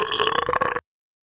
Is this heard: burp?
yes